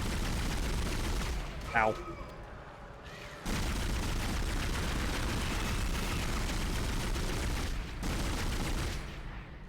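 Gunfire in the Dead Space video game aimed at a baby enemy: loud, dense bursts of shots fill the scene almost continuously, broken by a short gap, while a voice briefly exclaims.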